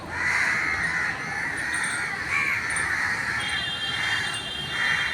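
Crows caw repeatedly on a cold winter morning in Delhi, their harsh calls rising in bursts over a constant outdoor hum of other birds and distant ambience, with no talking.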